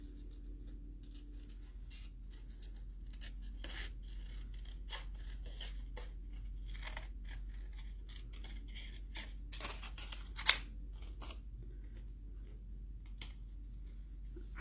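Scissors cut out small paper creatures with quiet, intermittent snips and rustles. The crisp cuts are scattered unevenly, with one sharper snip standing out, all faint and close with no talking.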